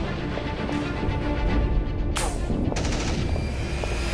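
Sci-fi gunfire in a Warhammer 40k Kill Team battle against Genestealers and a Haruspex, a dense rolling barrage of shots with sharp bursts near the middle, loud and continuous under faint voices.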